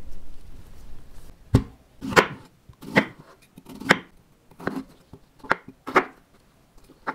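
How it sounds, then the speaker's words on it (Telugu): A knife finely chops pears on a board for an oats breakfast, making a steady series of about ten crisp, separate strikes close by with short pauses between them and no voices. "పియర్స్ ఫైన్ చాప్ చేసుకోండి"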